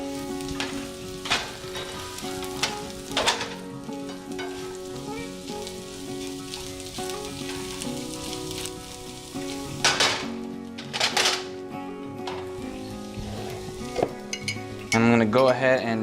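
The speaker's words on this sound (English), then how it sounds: "Now I just want to distribute the butter around the pan as much as possible." Butter sizzles and fries in a pan as it is swirled around, a steady crackling hiss with bursts of scraping and clinking from the pan and utensil, growing louder near the end.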